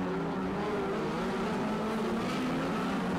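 Midget race cars race around a track at a New Zealand midget night, a steady loud engine drone with shifting pitch as the cars circle.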